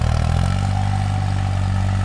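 A New Holland 4x4 tractor engine runs close by in a farm field being prepared after poplar trees were cut, a steady, loud, continuous rumbling drone with no break.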